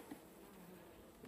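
Honeybees in a weakened hive during a first spring inspection, the queen dead but a fair number of workers alive, give a steady, faint, continuous buzz with no voices.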